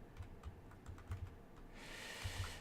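Keys tapped on a computer keyboard in a short, uneven run of distinct clicks, with a steady hiss coming up toward the end; no voices.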